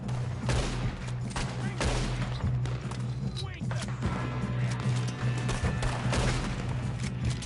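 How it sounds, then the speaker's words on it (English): A Red Dead Redemption 2 shootout in the snow against O'Driscoll gang members, with repeated loud gunshots cracking irregularly over a low steady hum and shouted voices. "Good shooting, kid."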